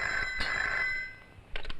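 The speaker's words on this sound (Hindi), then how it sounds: "मधु, तुम्हारी माँ जी का फोन।" Telephone ringing in a home in the 1993 Hindi drama film Aasoo Bane Angaarey, an electronic ring with bursts near the start and again toward the end, steady tone between, no talk over it.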